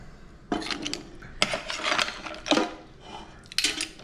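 Pasta and breadcrumbs are tipped into a pot on a home stove, giving several separate clattering scrapes and metallic clinks of utensil against cookware, close and moderately loud, with brief pauses between bursts.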